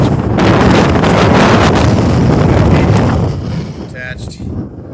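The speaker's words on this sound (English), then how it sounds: "We're only dealing with probably 10-mile-an-hour wind here, and it's almost tipping me over" Strong wind batters the microphone on an open hilltop, a loud, steady roaring rush that eases slightly near the end, with a brief higher tone breaking through.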